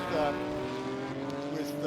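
Race cars in an IMSA VP Racing SportsCar Challenge race at Daytona International Speedway, including a bright yellow Aston Martin, roar past in a steady close pack, with engine tones sustained throughout and a commentator talking over them.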